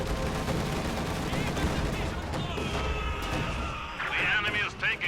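Bursts of gunfire and booming shelling fill a Company of Heroes 2 battle, with a Soviet Ostwind under fire, dense crackling shots and heavy explosions running under a commentator's voice throughout.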